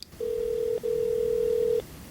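Steady telephone line tone from a played recording of a call to a government help line, two sustained beeps with a short break between them, loud and clear over faint background hiss.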